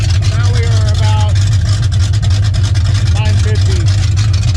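A 1981 Oldsmobile Cutlass with a 455 V8 idles loud and steady, a deep continuous rumble running through the whole stretch while someone talks over it.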